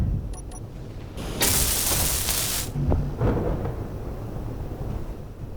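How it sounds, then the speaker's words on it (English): A thunderstorm rolls over the planet Pertam in Space Engineers. A loud burst of roaring thunder and rain hits, then fades into a lower rumble with faint mechanical clicks, and no talking. "I'm going to try and work through this storm if I can."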